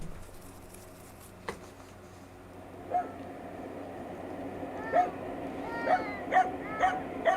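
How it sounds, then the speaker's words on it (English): A dog close by outdoors on a UK trip gives repeated short yips and whimpering barks that grow more frequent toward the end, loud over a constant background hum with no speech. "the dog barking in the background is actually just next to me"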